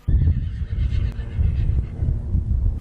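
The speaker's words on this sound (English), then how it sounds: "these panicked moments as the horses galloped across the property" Forty frightened horses neigh and whinny in panic as wildfire flames driven by strong winds reach a ranch, their calls loud and close over a dense, rumbling low roar with faint hoofbeats.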